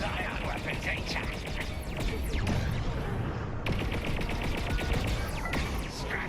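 Ion weapons firing during a space dogfight in Star Wars Squadrons, a dense run of rapid, crackling energy bursts over a steady engine rumble, with occasional sweeping tones and radio-style chatter in the mix.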